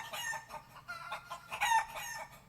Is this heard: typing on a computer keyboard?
no